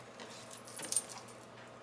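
Scissors snipping small V shapes out of paper for pocket tags, a few quick, close, crisp metallic cuts.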